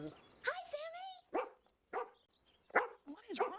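A dog in an animated Disney film gives a few spaced barks and whimpery yelps, and a voice speaks between them.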